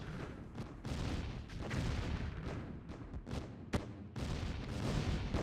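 A mammoth tank is blown up in the strategy game Dawn of the Tiberium Age amid a dense run of booming artillery-like blasts and rumbling explosions, continuous and loud across the clip.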